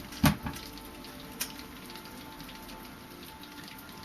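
Rain falls in overcast weather, a faint, steady patter in the background with a few louder individual drops ticking near the start.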